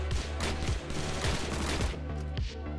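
Rapid gunfire in a low-poly first-person shooter using Counter-Strike sound effects, with an M1918 and a Tommy gun among the weapons: dense, loud, overlapping bursts of automatic shots in quick succession, with no talk.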